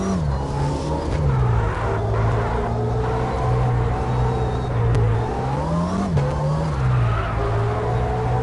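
Drifting car in the CarX racing game, Red Rock track at night, with a loud continuous engine drone wavering in pitch and tire skid noise running throughout the corner, no talking.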